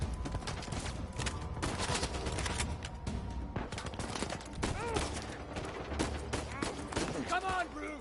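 Gunfire in Uncharted 4 crackles in rapid bursts and fusillades through the scene, mixed with loud game voices and shouting between shots.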